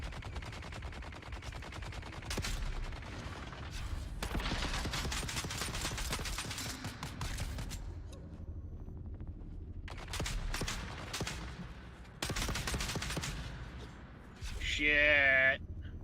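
Rapid bursts of automatic gunfire from a Dune: Awakening shootout crackle in repeated volleys, close and loud, separated by brief lulls, ending in a sharp whooshing sweep; voices talk over the fighting.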